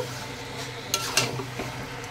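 Chicken kosha being stirred with spices in a pan, soft scraping and sizzle with two sharper metallic clinks of the spoon against the pan, close and alone.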